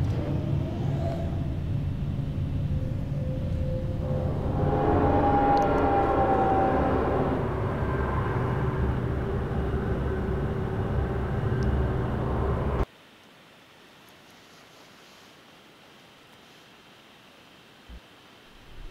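Padded elevator ride in Portal, heard as a steady low mechanical hum and rising whir that swells midway, then cuts abruptly to near silence.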